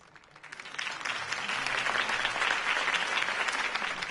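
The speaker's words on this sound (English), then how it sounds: "could have heard that applause" A video game crowd breaks into sustained applause, building quickly from scattered claps into a loud, steady wash of clapping that carries on throughout.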